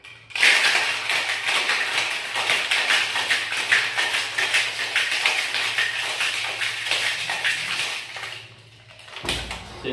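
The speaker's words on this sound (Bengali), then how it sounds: "শেক করে নেব।" Cocktail of country liquor shaken hard with ice in a shaker, a dense continuous rattle and clatter held near and loud for about nine seconds, then stopping abruptly.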